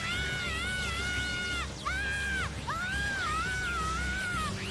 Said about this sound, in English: screaming for a really long time